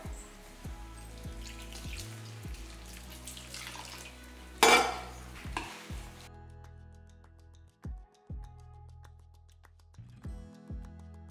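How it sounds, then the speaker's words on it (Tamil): Plain water goes into ragi flour dough in a kitchen pot, with scraping and clinking of a utensil against the pot, a brief splashing pour midway, then quieter intermittent knocks. "இதில் வந்து நானும் பச்சை தண்ணி சேர்க்க போகிறேன்"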